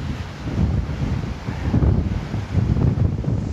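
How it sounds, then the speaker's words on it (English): Lake waves rolling onto a Michigan shoreline with steady wind buffeting the microphone, a continuous rushing wash that swells and eases in slow surges, no voices. "the waves rolling in, the wind, the point out there"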